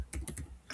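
Several quick keystrokes on a computer keyboard, clicking close by in a short uneven burst with a brief pause before the final tap.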